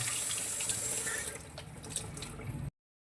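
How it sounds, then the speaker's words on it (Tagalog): Strong running water pours from a kitchen faucet onto a strainer being rinsed, a loud steady splashing rush that fades slightly and then cuts off abruptly near the end. "Itapat lang natin sa gripo, lalo na kapag malakas ang pressure."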